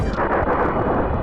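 Shots pound at Fox's ship in the SNES game Star Fox as a dense, loud, continuous barrage of booming blasts, with no voices.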